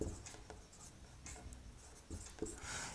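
Chalk or marker scratches faintly across a board in short separated strokes and taps, a quiet scribbling that pauses between marks in an otherwise hushed room.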